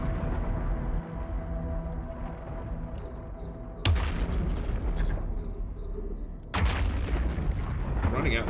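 Rapid gunfire from ship weapons in the space game EVE Online, heard as dense booming volleys with sharp bursts near four and six and a half seconds, over a steady rumbling engine hum and faint high chirps.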